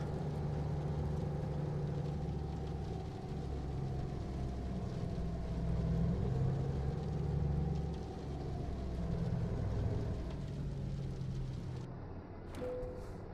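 A truck engine idling in American Truck Simulator, a low steady rumble with a faint whine that swells slightly midway, then the engine cuts off abruptly near the end, leaving near silence and a brief click.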